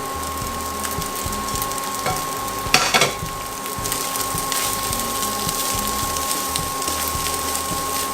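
Rice frying with petai in a pan, a steady close sizzle and stir with a brief scraping burst partway through, no talking.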